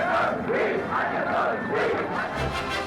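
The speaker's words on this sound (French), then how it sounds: "En province, les gens l'acclament." A large crowd in provincial France cheers and acclaims General de Gaulle in 1968, a dense, continuous roar of many voices with rising shouts, steady and fairly near throughout.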